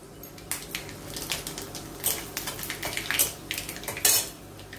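Panch phoron and dried chili tempering in oil in a kadai, heard as a scatter of light metallic clinks and scrapes from a utensil against the pan over a low steady background.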